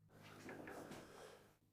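A loose old door, nearly falling off its hinges in an abandoned mansion, dragged open in one long creaky scraping movement, close and faint, no talk.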